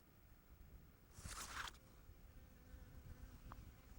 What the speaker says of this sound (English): There's that bee